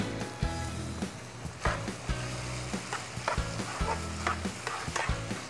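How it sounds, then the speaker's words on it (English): A cheeseburger pancake batter seasoned with hot sauce, salt and pepper is stirred in a hot pan, with a steady close sizzle and repeated scraping strokes of the utensil at an uneven rhythm. "So I'm just mixing it together to combine"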